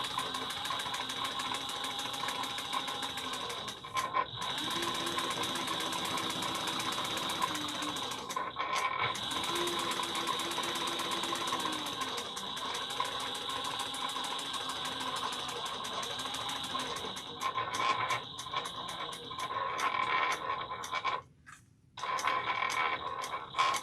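A home sewing machine topstitches a fabric travel bag at 1/8 inch, running as a steady, moderately loud hum with a few brief slowdowns and one short stop near the end.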